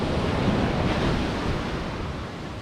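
Ocean surf at high tide on Coconut Wells beach north of Broome, a steady broadband wash of breaking waves with wind noise, continuous and fairly loud with no voices.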